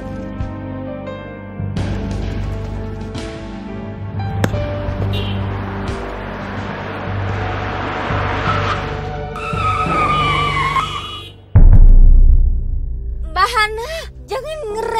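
A car brakes suddenly and its tyres skid after another car cuts in front of it. A long loud screech builds under engine noise, then a sharp jolt follows. Voices speak over the scene.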